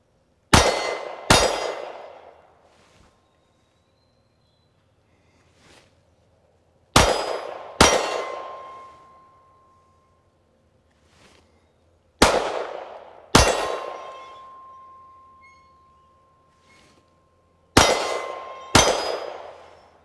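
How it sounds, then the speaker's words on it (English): Pistol shots in quick controlled pairs strike a 12-inch steel gong at 25 yards, each sharp report followed by a ringing metallic clang that decays; four pairs sound across the span. "8 out of 10 shots found that 12-inch gong from a distance of 25 yards"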